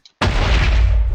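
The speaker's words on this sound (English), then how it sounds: "So Explosion, the first ability, is the name of the quirk. It just explodes." A sudden heavy blast from the Explosion quirk in a My Hero video game mod, a loud booming burst that starts abruptly and rumbles on for about a second.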